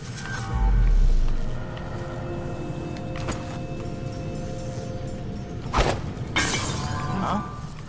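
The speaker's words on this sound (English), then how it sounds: "Broken glass." Glass breaks in the stealth game Dishonored 2 with a sharp crash and a scatter of bright shards, repeated in a second burst, over a low, steady ambient rumble.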